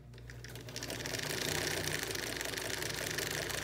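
Singer 99K portable sewing machine set to a short stitch length, running steadily with a continuous mechanical whir and rapid needle rattle, close and fairly loud throughout.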